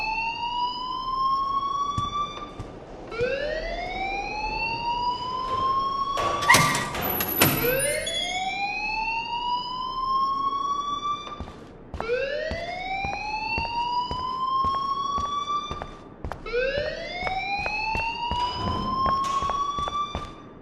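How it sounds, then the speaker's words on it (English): A fire alarm blares inside a school hallway in the video game Life Is Strange, its rising electronic wail repeating in loud, steady sweeps with a few thumps and clatters mixed in, and no one speaking. "please turn off that alarm since that's your job"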